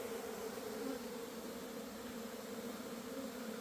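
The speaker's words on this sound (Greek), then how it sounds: "Αρχές του Φεβράρι αφεσμός." A honeybee swarm entering a new hive in early February makes a dense, steady buzzing drone that stays even and close throughout.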